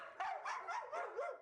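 Dogs barking in animal shelter kennels: a quick run of five or six sharp barks and yips, fairly faint and slightly distant, with no talk over them.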